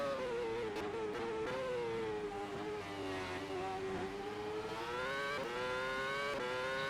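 A race car engine in a sim racing game on a qualifying lap at the Malaysian Grand Prix, a loud, sustained high-revving whine that shifts pitch up and down through gear changes and corners.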